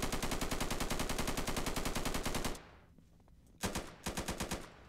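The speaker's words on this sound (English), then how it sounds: "So it sounds like the M4 within Insurgency or whatever it's called." Automatic M4 rifle fire from the video game Insurgency rattles in a fast, loud sustained burst, stops briefly, then resumes in two shorter bursts.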